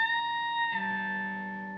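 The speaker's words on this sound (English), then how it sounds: "You're going to pick it, bend it up a full step, continue to press it down firmly and bring it back down." A single picked note on an electric guitar's high E string at the 17th fret is bent up a full step, sustaining cleanly and alone with a distinct pitch rise partway through.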